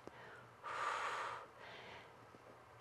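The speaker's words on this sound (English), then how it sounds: "And breathing in, and then lowering all the way back down" A deep breath drawn in through the nose during a yoga cobra pose, a clear rushing inhale lasting under a second, followed by a softer breath, quiet and close.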